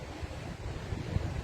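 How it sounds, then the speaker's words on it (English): Ocean waves washing at the seaside, a steady broad rushing surf mixed with gusty wind buffeting the microphone, continuous and moderately loud with no voices. "just breathing in the freshness of the ocean and looking out to sea and how vast the ocean is"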